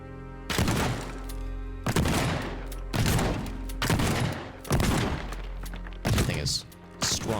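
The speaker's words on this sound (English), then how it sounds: "Could shotgun more of it" Shotgun blasts ring out in the destruction game Teardown, six loud booming shots at roughly even intervals, each trailing off in crumbling debris before the next.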